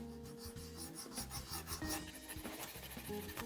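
Fine sandpaper polishing metal guitar frets gives a steady, soft back-and-forth rasp, close and continuous with quick regular strokes and no talk.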